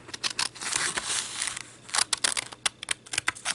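Scissors snip through a paper gift tag in a quick run of short, close, crisp cuts, a brief pause in the middle before more rapid snipping resumes.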